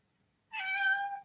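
A single cat gives one clear, fairly faint meow close by in an otherwise quiet room, a short rising-and-falling cry lasting about half a second.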